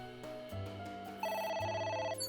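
A telephone rings in the video game AI: The Somnium Files, a steady electronic ring with repeating bursts that grows louder midway and plays alone with game music beneath and no talk.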